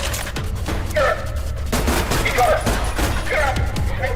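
Rapid bursts of gunfire from the video game ADACA, loud and sustained across the whole stretch, with shots arriving in clustered volleys.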